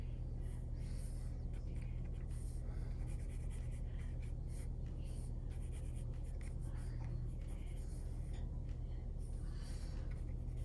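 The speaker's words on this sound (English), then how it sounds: "I'm just drawing in her arm." Markers drawing on paper as an arm and collarbone are sketched, a soft continuous scratchy rasp of felt tips over a steady low room hum, close and fairly quiet, no talking.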